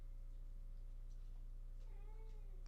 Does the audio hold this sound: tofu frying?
no